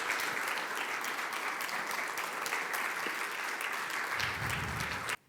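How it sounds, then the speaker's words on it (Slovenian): An audience claps steadily for a group of boys at a business chamber event, with sustained even applause that ends abruptly. "Zaploskajmo njihovemu uspehu"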